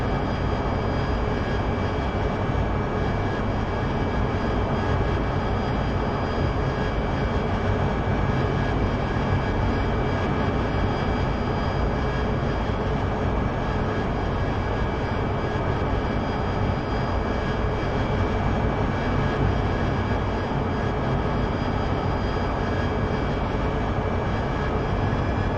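Steady, continuous jet engine roar from an aircraft landing in the DCS flight simulator during a night instrument approach, holding at an even, moderately loud level throughout with no voices.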